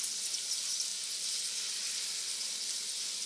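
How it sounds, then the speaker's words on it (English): Jalapeno and onion sizzle in a hot pan, a steady, even frying hiss running throughout at moderate level with no voices. "my jalapeno and onion are back there cooking"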